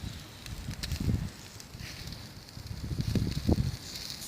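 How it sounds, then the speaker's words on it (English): Bacon cooks slowly over glowing campfire embers at a solo campsite, a soft crackle and gentle sizzle with scattered pops, close by and fairly quiet, swelling slightly toward the end. "Got the bacon on now, just slowly cooking it off over these embers."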